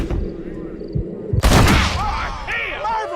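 Gunfire in Red Dead Redemption erupts as a loud, sharp burst partway through, its reverberating crack carrying over the game's music and ambience after a few softer thuds earlier on.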